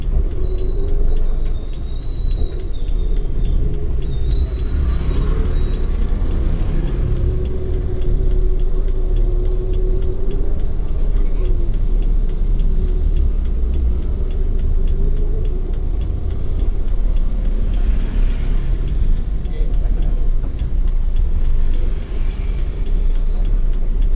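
Car engine idling and creeping backwards through a cramped housing estate lined with parked cars on both sides, a steady low rumble with faint ambient noise and no talking.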